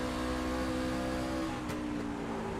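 Racing trucks roar around a bumpy short oval track, a dense, continuous engine drone from several vehicles at steady loudness.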